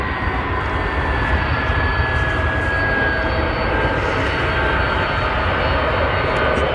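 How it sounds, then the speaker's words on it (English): Jet airliner at Chicago's O'Hare International Airport on the south side, a loud, steady engine roar with a thin high whine, continuous and fairly close throughout, no voices. "who's ready for an incredible departure here on the south side of Chicago's O'Hare International Airport?"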